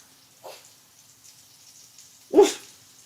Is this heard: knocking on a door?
no